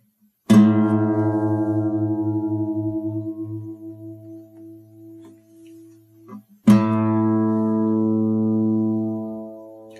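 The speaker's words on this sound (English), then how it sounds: "tune the A string by using the note on the fifth fret of the E string as our reference pitch" A guitar note plucked on the fifth fret of the E string rings out and slowly decays, then the open A string is struck and sustains loud and steady for tuning by comparison, with no voices.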